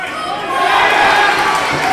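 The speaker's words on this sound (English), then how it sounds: "The crowd is cheering on the hometown fighter" Arena crowd at a boxing fight in Calgary cheering and roaring for the hometown fighter, a dense continuous wall of voices that swells louder after the first half-second and holds steady.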